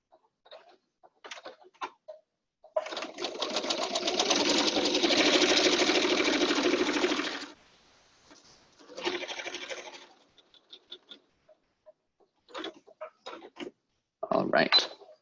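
A sewing machine stitches a seam on a drawstring bag, running in a steady burst of about five seconds, then a shorter burst as it backstitches, with scattered small handling clicks and brief speech around the stitching.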